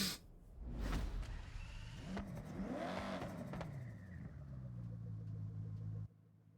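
A car engine in the Forza Horizon 6 video game revs and surges while driving, rising and falling in pitch over a few seconds before cutting off abruptly, with no talking.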